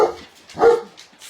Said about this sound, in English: So Lena was just barking at Nova.